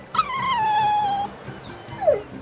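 A dog in the game Tales of Berseria lets out a long, high whimper that slides downward and trails off, then a shorter whine follows over a low background hum.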